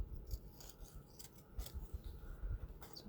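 Scissors snipping through decorative paper for a handmade card folio, a series of quiet crisp cuts and rustles close by, with soft low thumps underneath.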